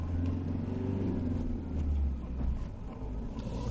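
A 2017 Ford Ranger pickup pulls away and drives off, its engine giving a low, steady rumble that swells slightly as it accelerates, heard close from inside the cab with no talking.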